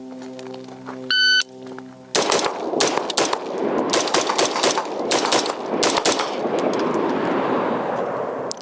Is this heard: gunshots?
yes